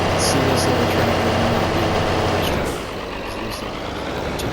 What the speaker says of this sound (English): let's see this little tractor